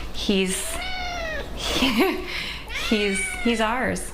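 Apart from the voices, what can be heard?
pet cat meowing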